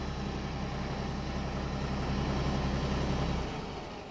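A Kioti DK6010SE HST cab tractor engine idles with a steady low rumble and a broad mechanical hum that drops away near the end. No voices are present.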